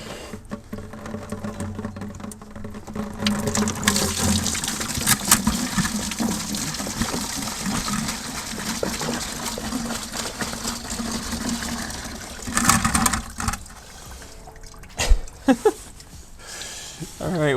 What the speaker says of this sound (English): Now I'm just going to try and twist this off so that I can have all of the fluid drain into here.